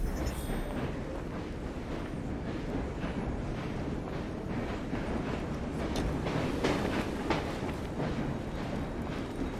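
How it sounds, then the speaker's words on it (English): A train rumbles along in Assassin's Creed Syndicate, a dense continuous roar of wheels and carriage noise with rattling and clanking bursts, loud and sustained throughout. "The train's ours now."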